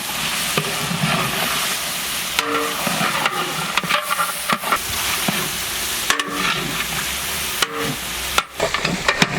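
Kabuli pulao masala stirred into meat frying in a pot, with a steady close sizzle and hiss broken by scraping stirs and occasional knocks of the spoon against the pan.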